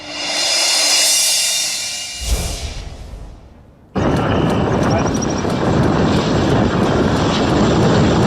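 An unmanned fighter aircraft developed by DRDO roars loudly and steadily. The engine noise fades briefly, then cuts back in abruptly at full strength.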